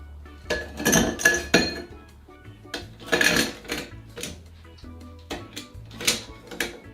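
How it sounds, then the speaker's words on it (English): Ice cubes clatter and clink into a highball glass in several bursts, bright rattling knocks tumbling against glass at close range with brief pauses between scoops; no one speaks. "So get your highball glass and fill it with ice."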